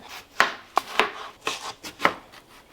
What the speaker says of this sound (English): So let's chop up this tomato.